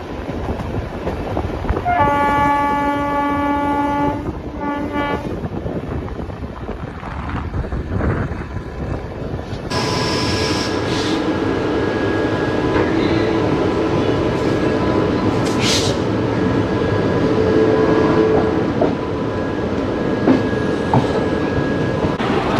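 Kevadia Jan Shatabdi Vistadome glass-coach train running on rails, a loud horn sounding early, then a continuous rumbling roll with rail clatter and a steady tonal whine, heard close with no talk.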